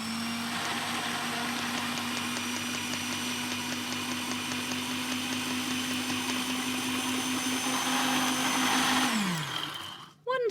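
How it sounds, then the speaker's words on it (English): A blender grinds cornflakes with a loud, continuous motor whine and gritty rattle for about nine seconds, then spins down, followed by a brief clatter. "We're going to try putting them in the blender."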